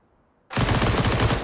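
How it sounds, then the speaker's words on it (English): Rapid gunfire in the shooter game CS:GO, a loud, dense burst that starts abruptly after a quiet moment and holds steady as a fast stream of close shots. "The shots ring out."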